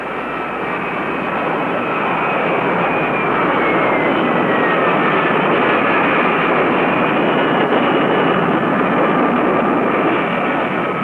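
A close group of Golden Hawks jet fighters landing in tight formation, a loud, steady engine roar with a high whine that holds constant and close throughout, with no voices.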